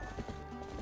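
Horse hooves from the video game Twilight Princess clip-clop in a quick, faint rhythmic patter over a muffled game background.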